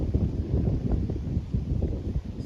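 Cold wind blowing over open rice fields, a continuous low rumbling buffet with gusty fluctuations, like wind hitting a nearby microphone.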